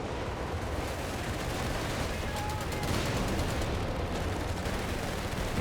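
Dense, continuous gunfire and battle noise from a Company of Heroes 3 match, with machine gun bursts crackling steadily through the whole stretch, loud and busy throughout.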